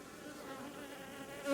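Honey bees swarm over freshly exposed honey on a hive as the supers are lifted off during a honey harvest, making a steady, close, dense buzzing that holds evenly throughout and swells slightly at the end.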